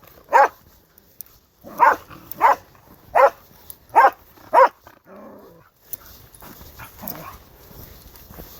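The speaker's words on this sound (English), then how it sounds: "someone with a pit bull, or boxer dog anyway" A pit bull or boxer dog barks six times in loud, evenly spaced single barks, then a few fainter sounds follow from farther off.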